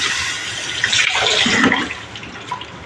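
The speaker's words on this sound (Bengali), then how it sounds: "এখন আমি জলটা ভরে নিই" Water runs into a bottle in a home kitchen as a continuous close rushing pour that rises in tone as it fills and then eases off near the end.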